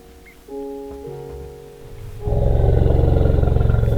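A loud, sustained roar from an elephant in the modded Minecraft pack Hexxit bursts in near the end, preceded by low tonal game sounds and a rising rumble.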